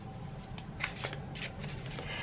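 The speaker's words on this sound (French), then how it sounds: "je vais commencer par mélanger les cartes" Tarot cards are shuffled up close in a few soft riffling bursts, faint against a steady background hiss.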